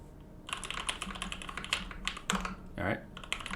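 Keys clack steadily on an Omnitype Bauer mechanical keyboard fitted with lubed and filmed 67g TKC Tangies switches, close up, with a brief voice or hum rising over the typing partway through.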